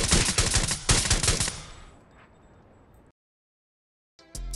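Rapid automatic gunfire from the mobile battle royale game Rules of Survival, loud dense bursts for over a second before fading into a decaying tail, then silence and a brief return of sound at the end.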